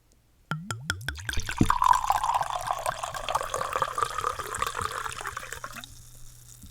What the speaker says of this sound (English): Time for the pour.